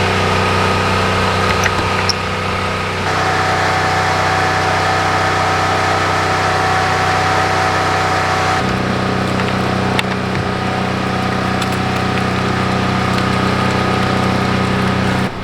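A water system pump flushes the whole plumbing system while a generator runs, a steady continuous engine-like drone with a mechanical hum that shifts pitch partway through, close and loud with no talking.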